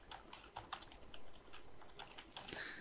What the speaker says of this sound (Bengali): আমি যদি এখানে ডোমেইন সার্ভিস লিখে যদি আমি সার্চ দিই